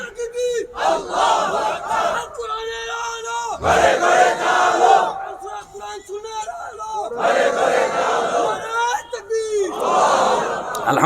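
A large crowd at a religious sermon shouts takbir responses in repeated loud, tonal waves of chanting, rising and falling over several seconds with brief gaps between bursts.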